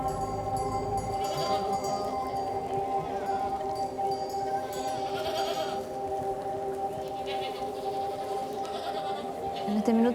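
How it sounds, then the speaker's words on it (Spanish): A herd of goats bleats repeatedly while grazing on a strategic grazing plot in south-central Chile, the calls steady and moderately close, mixed with a person talking and a low background tone throughout. "En este minuto estamos aquí en pleno pastoreo estratégico con rebaños de cabras"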